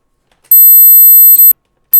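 A steady generated 440 Hz test tone, loud and clean, lasting about one second before cutting off, with a brief restart at the very end; no voices.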